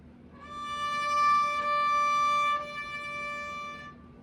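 A sustained bowed violin note on the D string rings steadily for a few seconds, clear and harmonically rich, with no talking.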